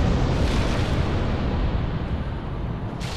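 Fire Tempest spell erupting in the video game Dark Souls, a sustained, loud roaring rumble of fiery blasts that holds steady for several seconds.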